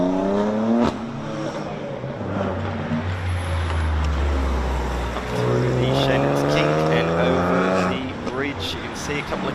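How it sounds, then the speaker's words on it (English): Porsche rally cars on a town stage at Strathalbyn pass through 90-degree left-hand corners. Engines rev up and down in rising and falling sweeps as cars brake and accelerate nearby, with a voice talking over them. "There's a bit of a Porsche theme at the moment. A few coming through, heading through the 90-degree left-handers."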